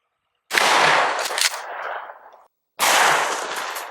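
Two loud 12-gauge shotgun blasts firing buckshot at a target outdoors, each a sharp close report with a long decaying tail, separated by about two seconds of silence.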